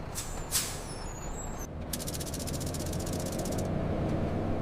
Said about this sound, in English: The bus stops at a light.